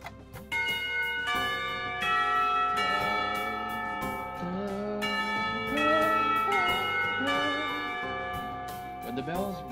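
A school bell rings in the visual novel Katawa Shoujo, a melodic chime of repeated tonal strikes over soft background music that continues for several seconds.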